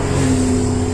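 A high-performance car near the Nürburgring in Germany roars past, a loud, close, sustained engine drone with a steady pitch, no talking.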